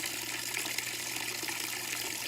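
Water from a tree fountain built out of a tea kettle and can, pouring steadily in a soft, continuous splashing trickle, close and fairly quiet with no voices.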